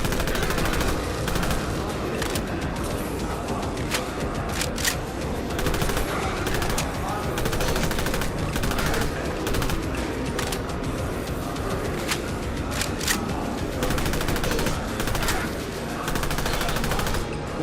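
Continuous loud gunfire from a gun in Fallout London, with rapid repeated shots and sharp bursts hammering on without a break for the whole stretch, dense and close.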